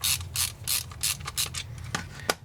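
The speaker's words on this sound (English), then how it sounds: "I'm not used to a ratcheting screwdriver." An LTT ratcheting screwdriver clicks in a quick, regular series of ratchet bursts, close and crisp, slowing to a few separate clicks at the end.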